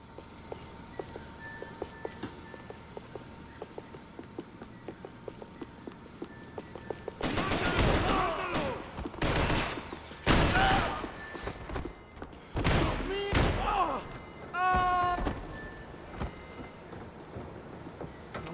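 Gunfire in Max Payne 3: after a quiet stretch of low ambience, loud bursts of rapid shots and single blasts erupt in clusters, sharp and close, mixed with brief game sounds.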